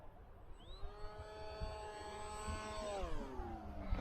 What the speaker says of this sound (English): Plane flies really well with just rudder too.